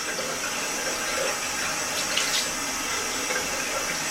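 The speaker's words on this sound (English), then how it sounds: "Now the whole face, forehead, cheeks, till your chin should be washed." Tap water runs steadily while someone washes their face during wudu ablution, a continuous close hiss and splash with faint droplet spatters throughout and no talk.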